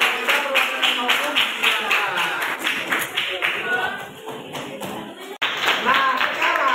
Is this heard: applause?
yes